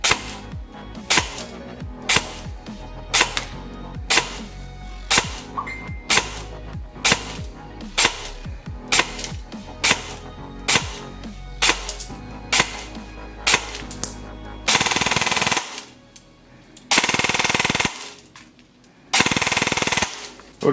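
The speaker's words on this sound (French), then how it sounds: "Test de tir d'un AR-15 génération 3 de chez Lancer Tactical" A Lancer Tactical LT-32 Hellion 10-inch Gen III AEG airsoft rifle with Nebula ETU firing outdoors: a run of sharp single shots at a steady rhythm, then three loud sustained full-auto bursts, close and loud with no voices.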